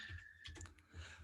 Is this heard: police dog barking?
no